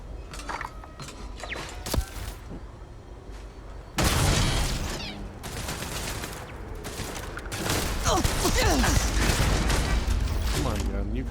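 Gunfire in the sci-fi shooter game Starfield: Shattered Space, with sustained bursts of shots and booming impacts that grow denser and louder midway, while someone talks over the action.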